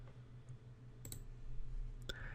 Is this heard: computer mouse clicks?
yes